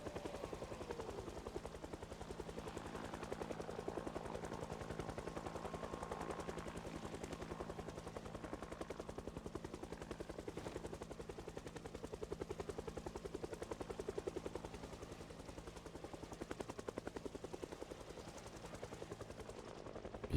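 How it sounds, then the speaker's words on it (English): A helicopter turns up in a video game, its rotor drone chopping steadily and faintly throughout, with bursts of gunfire mixed in. "Heli finally turned up, though."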